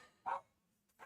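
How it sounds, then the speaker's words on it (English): Two short barks from dogs worked up over a delivery at the door, a sharper one followed by a fainter one, heard alone and fairly quiet. "I got dogs going crazy because there's some kind of delivery or something."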